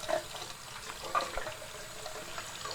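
Water from a tap runs steadily into a kitchen sink, filled to be heated for washing off grease, a continuous hissing splash at moderate volume with small clinks.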